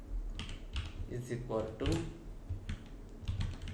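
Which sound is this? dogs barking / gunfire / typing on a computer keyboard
typing on a computer keyboard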